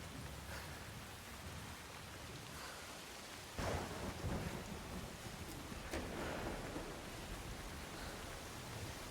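Thunder and rain in Assassin's Creed Shadows form a constant hiss of downpour. About midway a rolling thunderclap raises the level, and faint cracks come later.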